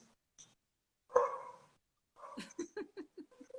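Pet dogs barking indoors, one sharp bark followed after a pause by a quick series of yips and barks, fairly close and with no talking.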